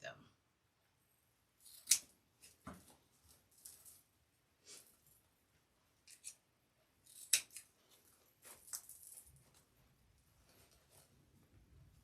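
Scissors snipping through ribbon tails on a Christmas wreath, a handful of sharp separate metallic cuts spread among quiet pauses and light handling noises, close and fairly soft.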